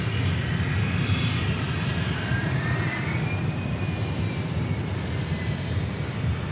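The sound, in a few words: Southwest Airlines Boeing 737 MAX jet taking off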